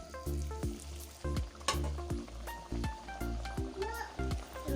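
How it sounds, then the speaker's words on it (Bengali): Spinach luchi frying in hot oil in a kadai, giving a steady close sizzle broken by rhythmic knocks and clatter as each piece is handled. "এভাবে একটা একটা করে এখন ভাজতে থাকবো"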